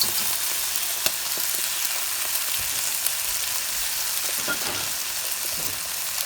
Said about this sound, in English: And then I'm going to go ahead and add our beaten egg.